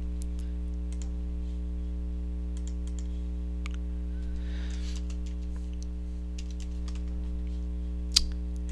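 Fingers tap on a computer keyboard in quick, light, uneven bursts, close by over a steady low electrical hum, with a brief louder clack near the end.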